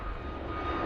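Airplane climbing out after takeoff from Bristol Airport, a steady, loud broadband engine roar filling the short stretch without pause, no voices over it.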